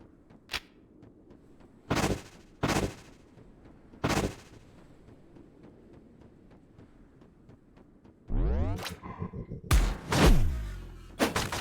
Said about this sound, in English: Oh, this guy has a shotgun.